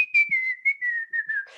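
A single person whistles one long, slightly wavering note that drifts gently downward over under two seconds, close and clear, imitating a defiant childhood whistle, with no talk.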